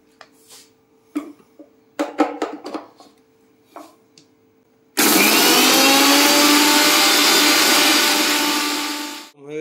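Kitchen mixer grinder whirring loudly as it grinds mustard seeds into paste, a steady high-pitched motor whine running for several seconds after scattered clinks and handling sounds, then cutting off abruptly.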